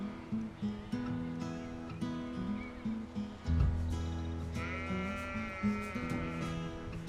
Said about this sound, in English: So it's just looking at all lambs, just Suffolks.